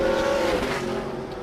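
Speedcar Series race car, the ACI 08 car, at full speed around Bahrain International Circuit, its engine a loud, sustained high-revving roar that holds steady and slowly drops in pitch as it passes.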